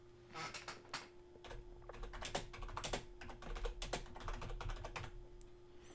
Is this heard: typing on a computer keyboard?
yes